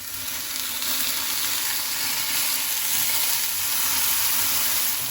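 Eggplants set one by one into hot oil in a pan over a low gas flame give off a steady, close, bright sizzle with crackling spatter, unbroken throughout and with no one talking.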